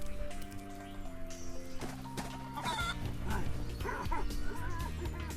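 Chickens cluck and squawk in Spyro: Year of the Dragon (Reignited), the calls repeating in short bursts over steady game music.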